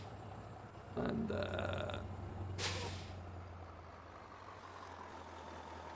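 A truck in the Farming Simulator video game, running as a steady low engine drone, with a tonal beeping stretch after the first second and a sharp hissing air-brake release near the middle; someone speaks briefly.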